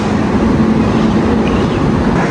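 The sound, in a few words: Rajdhani Express train at the platform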